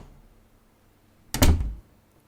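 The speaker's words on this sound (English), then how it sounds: "The moment the door had closed" A door closing indoors with a single solid thunk, near and fairly loud, followed by a brief low rumble that dies away into quiet.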